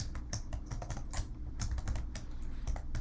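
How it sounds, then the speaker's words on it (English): Rapid, uneven clatter of fingers typing on a computer keyboard, close and continuous, with crisp key strikes and no talking. "I cannot type today."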